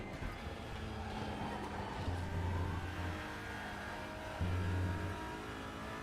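A TCR touring car engine in RaceRoom drones steadily at mid pitch, revving up in two short surges through gear changes, with a continuous race-car hum and no talking.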